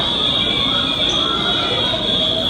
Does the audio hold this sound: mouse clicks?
no